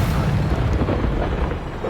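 An Expulso spell explodes in the Hogwarts Legacy video game, a dense, loud, roaring blast that rumbles on with no clear break for the whole moment.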